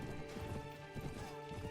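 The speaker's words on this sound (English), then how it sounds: "A lot of them still riding around on their horses." Horses gallop and clatter through a siege battle in the game Return to Pendor, a steady dense rumble of hooves mixed with crashing combat noise, continuous and fairly busy throughout.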